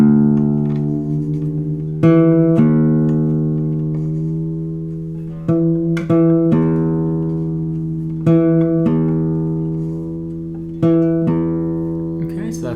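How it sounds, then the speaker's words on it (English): Classical guitar sounds an E on the A string at the 7th fret. The same note is plucked over and over, about every two seconds, and each pluck rings clearly and decays slowly, close and fairly loud. "So I'm going to play E on the A string, which is on the 7th fret."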